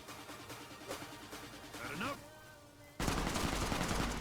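Gunfire in Fallout New Vegas comes as a scatter of sharp shots under continuous game noise, then a dense, loud burst of rapid fire crowds in over the last second.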